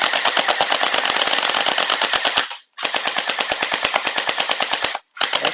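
An ARTSOCKET MP9 gel ball blaster fires in two long full-auto bursts, a rapid, loud, evenly spaced stream of sharp cracks with a short pause between bursts and a brief stop at the end.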